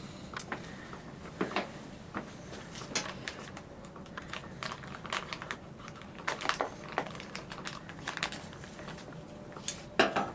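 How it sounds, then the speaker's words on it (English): An Unna boot bandage, a moist zinc oxide impregnated gauze dressing, is unwrapped from its packaging, giving close, intermittent crinkles, taps and sharp rustles spread irregularly over a low background. "step one is unpack the Unna boot"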